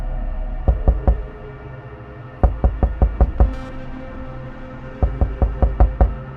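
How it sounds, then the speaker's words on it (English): Knocking on a front door comes in three bursts of rapid, firm raps, two to six knocks each with pauses between, heard alone against a quiet indoor background. "I heard even more knocking from the front door."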